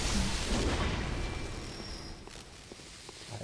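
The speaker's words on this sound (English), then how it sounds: "We got this guy chunking grenades over here." Grenade blasts in the game Bloodborne, a burst of booming impacts with rumbling debris that fades over a few seconds, with no talk.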